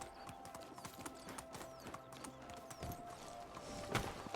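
Donkey hooves clip-clopping in Medieval Dynasty, a soft steady stream of faint hoof taps over a low ambient hum and scattered clicks.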